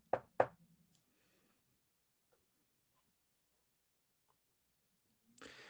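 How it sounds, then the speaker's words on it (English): A second pair of quick, firm knocks on a door, then a long near-silent wait broken only by tiny ticks before a brief burst of rustling noise. "Sits there for a minute and knocks again."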